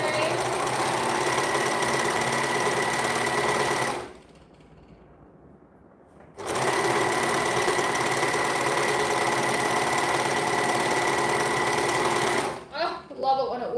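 A 4-thread overlocker runs in long steady bursts while gathering tutu fabric, a loud continuous mechanical whir that stops for a couple of seconds, restarts and then winds down with a few short stutters at the end.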